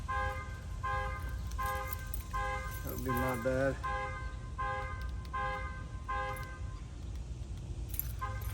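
A truck's alarm horn honks in a steady repeating pattern of short blasts outdoors, with someone speaking briefly over it.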